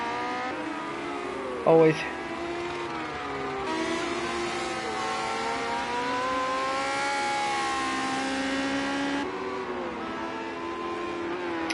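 Race cars, a Lotus 78 among them, running at Brands Hatch: a sustained engine drone with rising and falling pitch under ongoing commentary, one brief louder knock early on.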